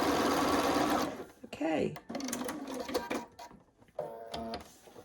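A sewing machine stitches blanket fabric pieces together with a rapid motor rattle in several short runs, stopping and starting, while someone talks briefly between and over the runs.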